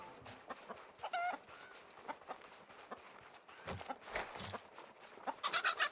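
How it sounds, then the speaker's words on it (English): A chicken in the game RuneScape clucks in short, quick bursts through a busy mix of other game sound effects, with a denser flurry of squawks toward the end. "I'm getting attacked by a chicken."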